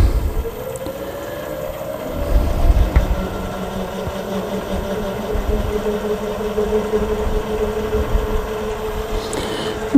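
A wood lathe turning a wooden hat blank at about 500 RPM, a steady mechanical drone with a sustained tonal whine, running continuously with a brief rougher stretch partway through.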